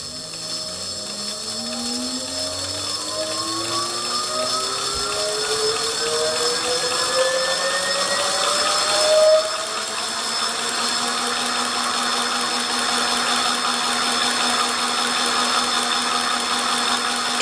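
Electric bicycle hub motor whining steadily on pedal assist during a test ride, its pitch climbing as speed builds, then holding a steady drone over continuous wind and road rush, with no voices.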